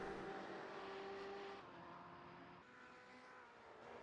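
BMW M8 GTE race cars in a racing video game drone past in the distance, their faint engine whine fading and shifting pitch over a few seconds without any talk.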